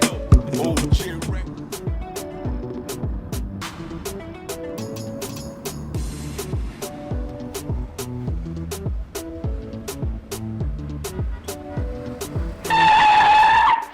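Car driving along with engine noise and tire sounds under a busy music-like background with sharp percussive hits, ending with a brief tonal whine near the end.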